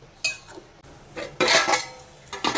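A metal spoon stirs tomato bath water in a pot, scraping and clinking against the sides in a few irregular strokes, close and fairly clear, with no voices.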